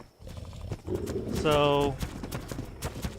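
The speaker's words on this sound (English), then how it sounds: "I had all these horses that were just standing around" Horses in the video game Ark Ragnarok, with a short harmonic whinny-like call in the middle under a man's speech and faint clopping sounds.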